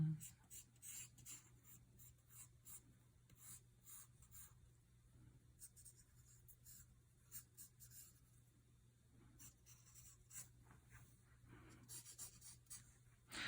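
A pencil scratches and strokes across paper while fine details of a portrait are drawn, in soft, close, irregular bursts over a low steady hum.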